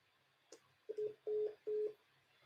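After a caller hangs up, a telephone line gives a click followed by three short, faint tone pulses in steady rhythm, thin and distant over quiet line hiss.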